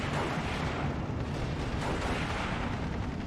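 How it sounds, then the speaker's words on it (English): An M1 gun fires on a Panzer IV tank in the Steel Division 2 wargame, its booms merged into a loud, dense and continuous roar of battle that stays steady throughout, with no distinct separate shots and no talking. "It's going to take some hits from the M1 gun."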